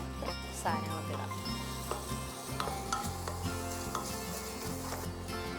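Masala for Kerala chicken mappas sizzles steadily in a pan, with repeated scraping stirs over a constant frying hiss; the cooking fills the whole stretch, near and fairly loud.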